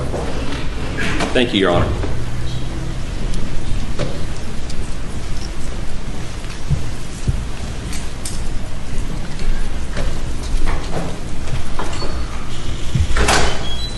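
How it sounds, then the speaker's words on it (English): A courtroom door is opened with a muffled sliding, knocking rumble amid broad room noise, while people speak briefly nearby. "Can you open that door?"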